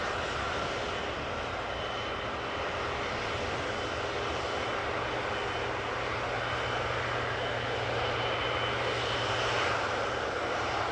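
A KLM Boeing 777-200ER, 19 years old and just in from Cape Town, arrives at Amsterdam Schiphol with a continuous broad engine roar and whine that stays loud and steady throughout, with no speech.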